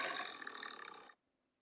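A tiger at a zoo gives a single loud, harsh roar lasting about a second. It starts abruptly and cuts off sharply into near silence, with no one speaking.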